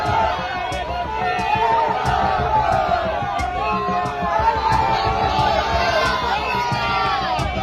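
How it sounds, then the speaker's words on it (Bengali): A large crowd chants Islamic religious slogans at a street protest in Rajabazar, a loud continuous mass of voices with rising shouted calls and cheering. "নারায়ে তাকবীর, আল্লাহু আকবার, এই সমস্ত স্লোগান হচ্ছে সেখানে"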